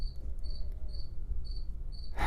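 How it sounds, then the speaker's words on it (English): A cricket chirps inside a garage in regular, evenly spaced pulses. The chirping is steady and fairly clear over a low room rumble, with a short burst of noise at the very end. "There's a cricket."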